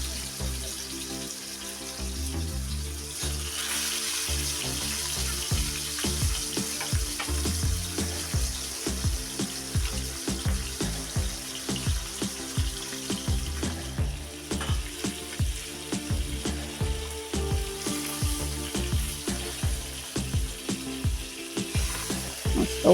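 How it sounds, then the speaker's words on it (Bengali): Rupchanda fish fries in hot oil with a loud, dense sizzle broken by a steady rhythm of crackling pops and spatters, close up and with no talking. "গরম হয়ে গেছে তেল, এখন মাছ ছেড়ে দিচ্ছি।"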